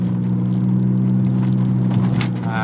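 Subaru SVX EG33 flat-six running through a T25 automatic gearbox in a converted van while driving, a steady close engine hum with a faint rattle and a slight change near the end.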